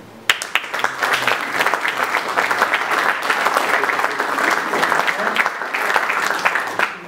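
An audience at a business event applauds a group on stage, dense steady clapping that swells quickly and holds for about seven seconds with faint voices beneath.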